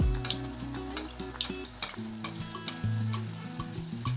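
Malpua batter sizzles and crackles steadily in oil in a pan on low heat close by, while a low tonal hum or music plays underneath.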